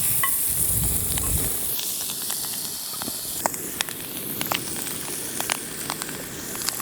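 Morel mushrooms, butter and garlic sizzle and hiss steadily in a pan outdoors, a close, dense crackle with scattered sharp pops and spits throughout and no talking.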